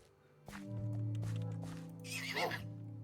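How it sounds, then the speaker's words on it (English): A donkey in Minecraft brays, giving a loud, close, drawn-out tonal call that ends in a rougher squealing burst. "Was that noise a donkey?"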